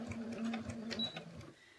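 Sewing machine with a walking foot backstitching a tote bag seam, a quiet, quick mechanical chatter of needle strokes lasting just under two seconds before stopping.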